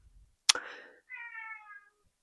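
A pet cat gives one clear meow, close and moderately loud, preceded by a sharp tap or knock, in an otherwise quiet indoor room.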